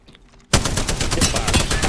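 Hip-fired gunfire in Apex Legends erupts after a quiet half second, a rapid loud automatic burst of closely spaced shots continuing to the end.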